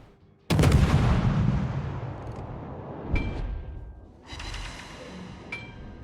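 Ship guns boom in a naval video game, set in a torpedo-line grind with an IJN destroyer; one loud broadside blast opens and rolls off, then several sharper cannon reports and another salvo follow amid sustained rumble.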